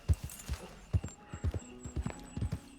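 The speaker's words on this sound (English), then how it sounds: "Goldie, a good golden horse." Rhythmic clip-clop hoofbeats of a golden horse galloping in a video game, steady repeated thuds with a faint neigh, no talk.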